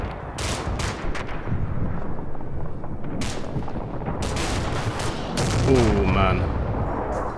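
Gunfire in the Cold War combat game Combat Mission: Cold War, including M60 machine gun suppressive fire: repeated bursts of shots and booming impacts throughout, with someone briefly speaking over the shooting.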